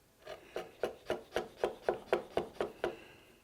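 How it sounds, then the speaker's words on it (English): A chisel pares irregularities off a piece of wood held in a bench hook, making nine or ten rhythmic, raspy scraping strokes in quick, even succession, close by. "To clean up the irregularities, I'm just going to use a chisel and support it in a bench hook here"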